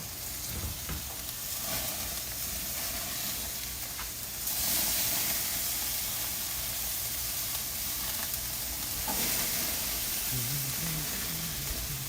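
A steak sizzles on a grill with a constant fizzing hiss that swells louder at two points, plus occasional faint crackles, close by and steady.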